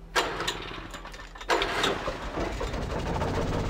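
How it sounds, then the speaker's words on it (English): An old generator in a house cellar in Alan Wake sputters through two starting bursts, then settles into a steady, close mechanical chug. "I've started the engine to get ourselves some frickin' light in our house"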